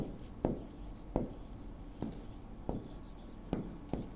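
Pen or marker strokes on a board during a Class 9 chemistry lesson, sounding as sharp scratchy taps about every second, close and clear with no talking over them.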